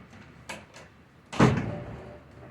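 A door left partly open at a maple sap boiling shed rattles in the wind, with a couple of light knocks and then one heavier bang, against faint background noise.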